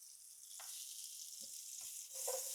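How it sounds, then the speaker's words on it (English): Onion slices fry in a stick of butter, producing a faint, steady hissing sizzle with a few soft pops, quiet and uninterrupted. "the onions that are cooking right now"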